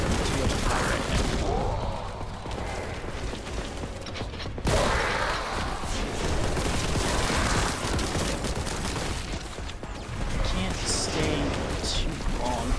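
Dense, continuous gunfire from the video game Warhammer 40k Boltgun fills the scene with rapid blasts, clanking mechanisms and explosions, loud and close, with a break in the barrage around the middle.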